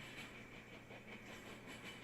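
A standard manifest freight train with coil cars rolls by, heard as a faint, steady rumble and hiss with no talking.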